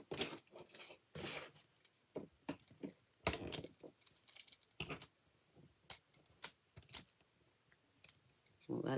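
Sharp, scattered crackles and clicks of adhesive foam dimensionals being peeled from their backing for card making, close and intermittent with quiet gaps between.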